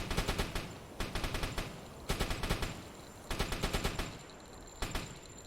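HE shells fired in the space game Star Citizen, rapid bursts of four to six sharp cannon shots repeating in quick clusters, loud and close with no talk.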